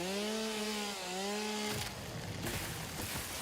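A chainsaw in the game Satisfactory drones at a steady, slightly wavering pitch, then bites into a tree with a harsher, noisier grinding roar for the rest of the clip, close and alone.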